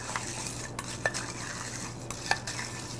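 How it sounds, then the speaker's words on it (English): Fresh mint leaves are stirred and folded into a mint julep cocktail, giving soft continuous swishing with a few light clinks of spoon against glass, close and quiet with no talking. "Just mixing around the mint leaves and making sure that it's really mixed really well."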